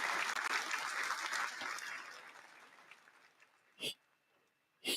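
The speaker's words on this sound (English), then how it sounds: "I'm gonna give him some hand claps for that" Hand claps as a sound effect: a sustained burst of applause-like clapping that gradually fades, followed by two sharp, separate claps near the end.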